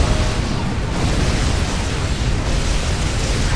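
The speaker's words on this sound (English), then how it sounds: "these turrets do shred up my Terminators" Gun turrets blast away at Terminators in a Warhammer 40,000 siege battle game, a dense, loud, continuous roar of gunfire and explosions that never lets up.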